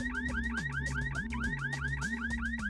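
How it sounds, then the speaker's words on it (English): A car alarm blares inside the N64 game Bomberman Hero, cycling steadily through repeating rising chirps over a low alternating two-tone pulse, loud and continuous with no talking. "Hey, you guys enjoying this car alarm right now?"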